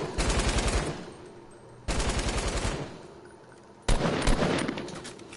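Rapid automatic gunfire from a first-person shooter video game comes in three loud bursts of quick, evenly spaced shots, each lasting over a second, separated by brief pauses.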